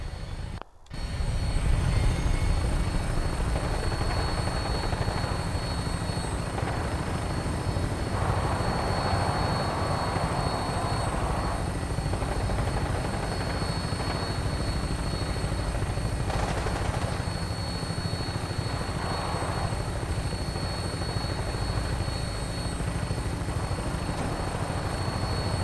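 A vertibird aircraft flies in the Fallout 4 video game, with a steady, loud rotor thrum and engine roar that continues throughout after a brief start, with no talking.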